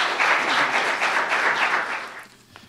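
Audience applause rings out in a hall at a Catholic legal education lecture as a speaker is welcomed to the stage, steady dense clapping that fades out near the end.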